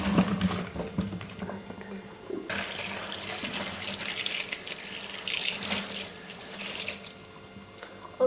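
Tap water runs steadily into a pot meant for boiling ribs, a broad rushing stream that swells louder partway through and continues without pause, with no talking.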